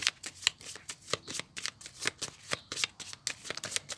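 A tarot deck being shuffled and cut, with rapid riffling card flutters in quick, uneven bursts close to the listener, no talking over it.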